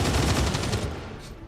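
A short, dense burst of rapid gunfire from a gun in XCOM 2, loud and continuous, trailing off within a second and a half.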